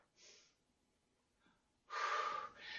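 A big, deep breath taken during an exercise class: a short breathy inhale, a pause, then a louder, longer forceful exhale, close and alone with no talk.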